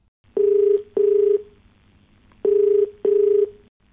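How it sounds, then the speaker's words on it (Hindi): A telephone call rings through, four clean electronic tone bursts in two pairs separated by a short silence, close and clear with no voices. "चलिए हम तनवीर जी को फोन लगाते हैं"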